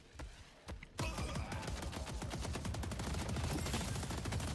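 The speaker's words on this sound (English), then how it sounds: "He's got obliterated by turrets." Rapid automatic turret gunfire in the video game Deadlock, a dense sustained stream of close, loud shots after a few isolated pops.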